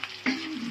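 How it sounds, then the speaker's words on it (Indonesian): Garlic and shallots frying in a pan, a brief close crackling sizzle that jumps louder as they hit the hot oil. "Kita goreng dulu bawang putih, bawang merah ya."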